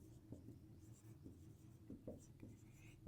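Handwriting while working a seventh-grade rational numbers math exercise, faint scratchy pen strokes in short bursts, very quiet and close, with a low voice murmuring at times.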